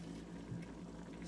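Veggie noodle soup boils in a pot with a spinning lid, making a steady, faint bubbling hiss.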